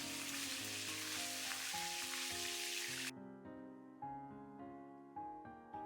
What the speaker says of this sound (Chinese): 把剁好的肉末下锅煸炒一会儿